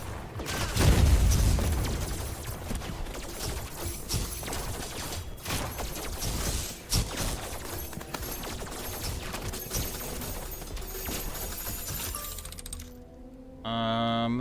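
Enemies explode again and again in the co-op survival roguelite Steel Swarm, a loud, dense barrage of booms, crashes and shattering debris that runs nearly nonstop, then drops to quieter game sounds near the end.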